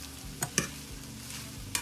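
Steak sizzles steadily in a pan for a large family meal while being stirred and mixed back in, with a few sharp scraping clinks of the utensil.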